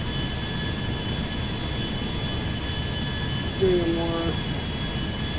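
Steady broadband jet-engine roar from a Boeing 747 passenger airliner landing in a flight simulator video game, a continuous drone with steady tones, joined near the end by a brief rising electronic chirp while a voice speaks a few words over it.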